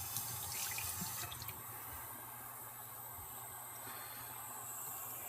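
Water runs steadily from a Tyent K8 water ionizer, a continuous close, even hiss of flowing stream with no talk, holding level throughout.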